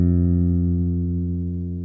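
Bass guitar sustains one fretted F on the D string, a steady low tone ringing alone and fading gently.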